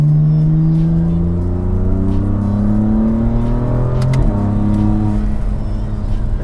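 A tuned BMW M4 with stage 2+ hardware upgrades pulls hard from second gear, its engine drone climbing steadily in pitch, then dropping with a gear change before rising again; loud and close.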